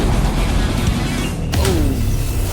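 Black Flash attack effect from a Roblox Jujutsu Kaisen fighting game: a loud, dense smash over a constant rumbling game backdrop, with a sharp crack near the middle and a rising whoosh after it.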